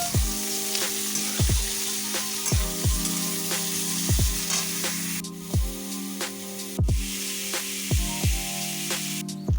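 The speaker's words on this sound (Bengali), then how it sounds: "কড়াতে তেল দিয়েছি, এবার এক এক করে সব সবজিগুলো আমি ভেজে নিচ্ছি" Vegetables fry in hot oil in a wok, a loud, continuous sizzle close by, broken by regular rhythmic scraping strokes of stirring.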